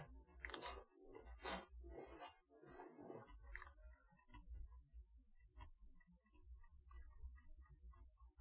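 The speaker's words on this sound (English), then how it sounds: "Chewing gum." Someone chews gum close to the microphone, producing a few soft, wet smacking chews at first and then quieter, irregular clicks and mouth sounds.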